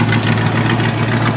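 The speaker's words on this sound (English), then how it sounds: "Nice engine, nice exhaust." A Land Rover Discovery with a 3.9 V8 running on LPG idles close by, a steady, loud, rumbling exhaust drone with no pauses and no talk.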